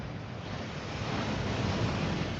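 Steady rushing water from a waterfall in the fantasy video game Hogwarts Legacy, a dense continuous roar that swells slightly louder toward the end, heard alone.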